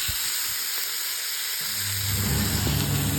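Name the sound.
wrap sizzling and frying in a smoking pan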